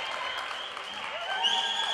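Crowd noise at a roller derby bout between Albany and Windsor, a steady wash of cheering and applause that swells louder toward the end.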